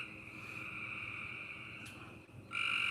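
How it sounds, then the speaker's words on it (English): Frogs croaking outside at night, a steady high trilling chorus with low pulsing croaks underneath, fairly faint and distant, growing louder near the end. "the sound outside has now changed from frogs, or from crickets to frogs"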